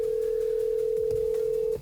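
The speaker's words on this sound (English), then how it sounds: "Oh, my phone's ringing." An Android car head unit with built-in Apple CarPlay plays a phone ring through the car speakers as a single steady electronic tone that holds for under two seconds, then cuts off abruptly.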